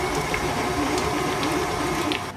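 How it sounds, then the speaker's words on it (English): An electric stand mixer whirs steadily on medium speed, beating cream cheese until creamy for mini lime cheesecakes. The motor hum is continuous, moderately loud and close, with faint rhythmic churning and no talk. "I'm gonna go ahead and just mix that in my mixer on medium for a couple minutes to get it nice and creamy"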